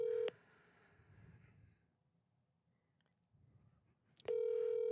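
A telephone call rings unanswered: a loud electronic tone plays briefly, gives way to faint line hiss and soft rustling, then the tone returns strongly at the end.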